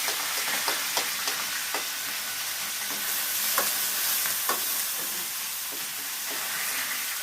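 Curry leaves sizzle in hot oil in a pan for an okra fry, a steady frying hiss with light scraping clicks from stirring scattered throughout and no voices.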